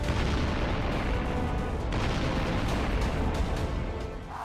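Bombing and artillery explosions in the Ukraine war roll on as a continuous, loud, dense rumble of blasts and bursts with no clear gaps between them.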